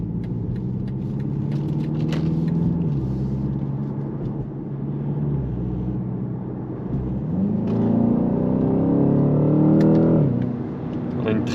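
A BMW 128ti with a 265 hp engine pulls away under throttle, its steady engine drone swelling twice as revs climb through the gears, with road rumble underneath and no talking.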